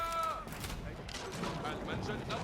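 Culverin cannons fire in an Age of Empires 4 match, with short booming bursts and crackling impacts close together. A commentator talks over them.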